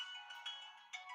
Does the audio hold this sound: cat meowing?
no